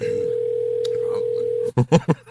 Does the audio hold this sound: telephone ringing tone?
yes